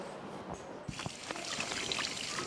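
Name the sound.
water being poured and spilled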